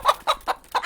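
A pet chicken named Goose Goose clucks close by in four short, loud bursts with brief gaps between them, no talk over the calls.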